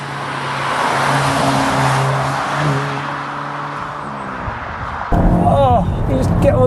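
A Volkswagen Golf GTI Clubsport Mk8 pulls hard on a race track, its engine note droning and rising under acceleration, loud and close from inside the cabin, with a person talking over it.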